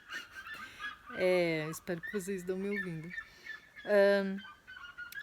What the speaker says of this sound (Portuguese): Vocês estão ouvindo os pássaros, né, gente?